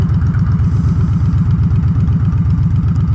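Harley-Davidson motorcycle with a 107 engine idling close by, a steady loud, lumpy low rumble with a fast, even pulse throughout and no speech.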